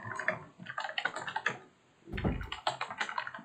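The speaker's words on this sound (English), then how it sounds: "I'll type that in." Quick clattering keystrokes on a computer keyboard as a chat message is typed, irregular bursts of clicks with a brief louder thump and pause midway, close up.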